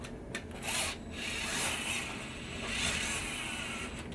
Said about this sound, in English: And we will need to use a screwdriver.